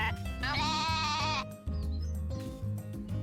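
A baby goat bleats in Story of Seasons: A Wonderful Life, one wavering, drawn-out cry over cheerful game music, followed by softer musical notes.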